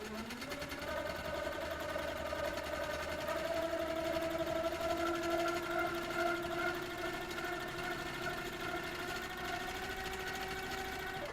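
A sewing machine stitches over cursive lettering in green thread, running in one long steady whir with a rising, then level motor tone throughout.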